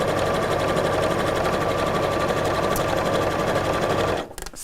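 A sewing machine runs steadily, stitching fabric with a fast, even mechanical whir for about four seconds before stopping abruptly, leaving a quieter room.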